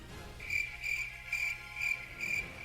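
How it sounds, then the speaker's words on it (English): Crickets chirp in a steady rhythm, five bright pulsed bursts spaced about half a second apart over a low background hum, clear and fairly close. "I don't know if it was possible to add more crickets to that"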